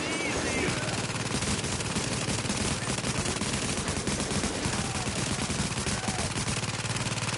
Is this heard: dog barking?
no